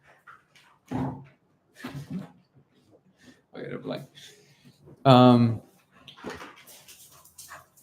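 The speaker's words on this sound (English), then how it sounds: "Hold on, one dog is trying to eat the other dog." Two dogs playing roughly, one trying to bite the other, giving a short yelp and growly whimpers between bursts of talking, with one loud yip standing out near the middle.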